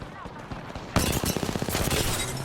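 Rapid gunfire in Apex Legends erupts suddenly after a quieter lead-in, a loud burst of fast repeated shots with sharp cracks, mixed with a voice talking over the game.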